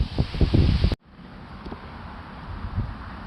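Gusty outdoor wind buffets the microphone with a loud rumbling burst for about a second, then drops to a steadier, quieter blowing hiss.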